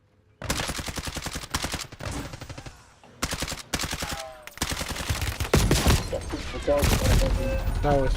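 Repeated loud gunfire bursts in a first-person shooter game, rapid rattling volleys separated by brief pauses, with heavier booming shots toward the end.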